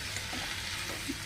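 Onion, tomato, ginger, four or five garlic cloves, green chillies and cashews cooking together for a paneer gravy, giving a soft, even low sizzle throughout with no voices.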